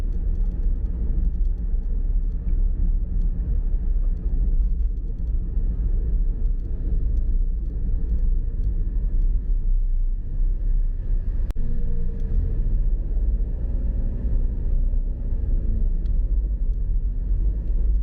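Morning rush-hour traffic in Penang is heard from inside a moving car, a loud, steady low rumble of engines and road noise that continues without break, with one brief sharp knock partway through.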